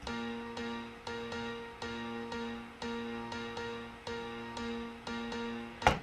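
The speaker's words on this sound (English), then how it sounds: "So that's just me on the B flat, just like in octaves." A piano repeating a B flat in octaves, with soft evenly spaced strikes that ring and fade in a steady pulse, heard alone and fairly quiet, ending in a brief louder click.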